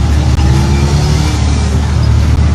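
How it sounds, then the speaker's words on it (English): A car drives along a busy ring road in Benin City, its steady engine drone and road roar loud and continuous with surrounding traffic noise and no talking. "We're at the popular ring road and we are taking a drive"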